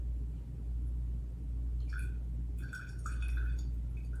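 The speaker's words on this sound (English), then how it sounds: "I'm going to go ahead and pour it in here." Hyssop herbal tincture poured into a container, a faint trickle with small liquid drips and splashes over a low background rumble.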